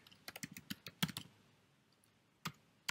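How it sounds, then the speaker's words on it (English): Quick bursts of keystrokes on a computer keyboard, a cluster of crisp clicks followed by a pause and a few more taps, close and clear in a quiet room. "So I'll just type in mine real quick."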